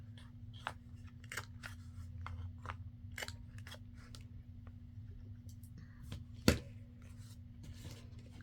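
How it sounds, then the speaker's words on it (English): Corner rounder punch trimming the corners of paper craft cards: a series of crisp clicks and snips spaced every second or so, close and fairly quiet, with one sharper snap later. "I'll just go ahead and round my corners."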